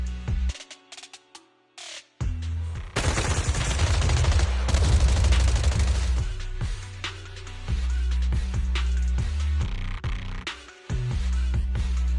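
Bursts of rapid gunfire in the video game Zenless Zone Zero crackle loudly in volleys, with a heavy sustained barrage in the middle and short gaps of near silence between.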